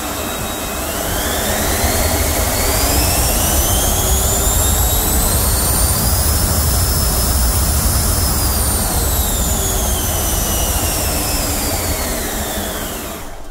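An RC F-14 Tomcat jet with upgraded inrunner motors roars past in a loud, steady whine that rises and falls in pitch as it sweeps through a spin, with no voices.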